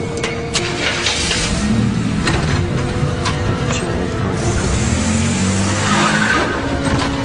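A car moving fast with tires skidding and squealing, loud and close, over a dense roar of engine and road noise that holds steady throughout.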